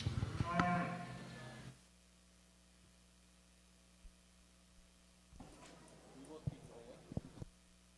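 A Charolais cow at a youth livestock show lets out one loud, close moo that fades out, followed by quieter shuffling, clatter and faint hall noise.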